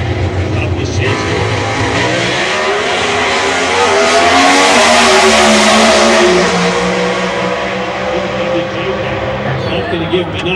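Drag racing cars launch off the line with a sustained, loud engine roar that swells and holds for several seconds before easing. A commentator talks over the noise throughout.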